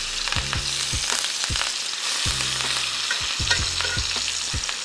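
Butter with garlic, rosemary and thyme sizzles loudly and steadily in a skillet alongside a steak over medium-low heat, with occasional knocks and scrapes from the pan.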